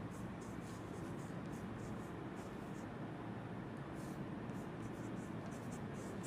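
Steady scratching of a pen or chalk writing by hand during a chemistry lesson, a continuous soft scraping with faint rhythmic strokes throughout.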